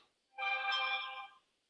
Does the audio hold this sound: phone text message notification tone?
yes